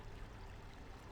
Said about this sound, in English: Sparkling clear water cascades down from a sculpted fountain that dominates this room